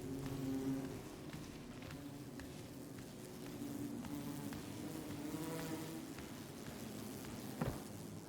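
Bees buzzing around a hive in the climbing game Cairn, a faint continuous droning hum with wavering tones, steady and close over quiet ambience.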